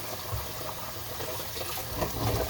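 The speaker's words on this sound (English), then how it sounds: "Turn our water on here, get our nifty little cup." Kitchen tap running hot water, a steady close rush filling a cup, with continuous splashing and no voices.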